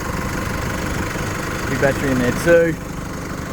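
A 2017 Holden Colorado LS 2.8 turbo diesel engine idles steadily with a low, even rumble throughout, while someone speaks briefly over it.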